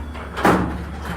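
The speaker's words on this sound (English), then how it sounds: "So I'm going to shut the garage door here." A garage door is shut in one brief, muffled thud over a low steady background hum.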